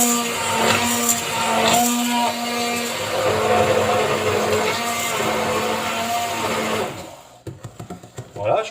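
An immersion blender runs in a kitchen, a loud steady motor whine with a churning edge that drones for several seconds, then cuts out into a few brief clunks and handling knocks.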